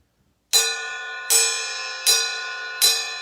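Ride cymbal bell struck on steady quarter notes in a drum groove, four bright ringing pings evenly spaced, each decaying into a sustained shimmer, close and alone.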